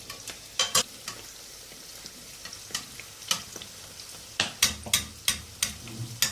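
Flour-and-water dough pastries fry in hot oil, giving a soft continuous sizzle broken by a series of sharp crackles and pops at irregular intervals that grow more frequent toward the end.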